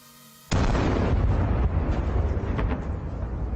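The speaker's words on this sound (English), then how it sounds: "sent a kamikaze drone towards it. In a short time, the vehicle was immediately destroyed." A kamikaze drone strikes a Russian military vehicle with a sudden loud blast that rolls on as a heavy, roaring rumble and crackle.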